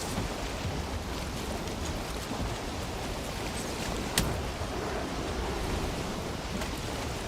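A boat sails through waves in the video game Valheim: a continuous rushing wash of surf and wind, loud and steady, with one brief crackle partway through.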